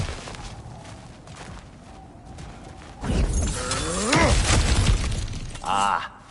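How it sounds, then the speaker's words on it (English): Ground cracking and shattering as a character smashes through broken earth in God of War Ragnarok, a loud burst of breaking debris and crunching impacts after a quieter stretch of ambience, with a brief voice in the mix. "Back to smashing through things for fun and profit."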